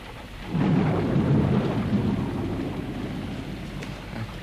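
A thunderstorm with rain: a deep rolling rumble of thunder swells in after a moment and slowly fades, under a constant hiss of falling rain, with no one speaking.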